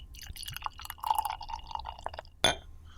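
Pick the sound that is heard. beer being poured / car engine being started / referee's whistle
beer being poured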